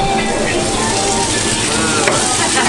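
Tomatoes, peppers and eggs fry in olive oil for a Turkish breakfast, a loud, steady, close sizzle that continues without a break.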